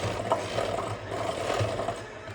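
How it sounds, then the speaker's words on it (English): Hand mixer creaming butter with 3/4 cup of sugar in a bowl, a steady close mechanical whir with rough scraping and rattling of beaters against the mixture, no talk. "I'm just going to take my hand mixer and just kind of cream that together."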